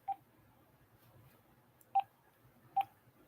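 A phone sounds three short, separate electronic tones for an incoming call from a private number, with a long gap after the first and a shorter one before the last, faint against quiet room noise.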